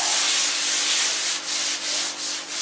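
Steady rubbing of vegetable oil into a cast iron dutch oven by hand, a close, continuous scuffing hiss with a few brief dips near the end and no talk.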